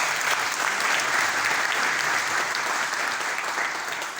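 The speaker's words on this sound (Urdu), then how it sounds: "ہماری تالیوں کی گونج کم از کم مدینہ تک ضرور سنائی دے" Sustained audience applause at a foundation address in Gujrat, steady and full for the whole stretch, dense clapping from a large crowd with no voices over it.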